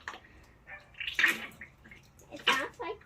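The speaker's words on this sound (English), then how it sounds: "And now I'm going to drain the oil that's in here." Fork oil is pumped and drained from a Honda CBR500 front fork, giving wet gurgling, squelching spurts in irregular bursts, close up and moderately loud.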